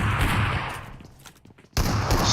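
Tommy gun fire in a competitive video game match, a loud rapid burst of automatic shots that cuts out into a brief lull before another heavy burst erupts, close and dense.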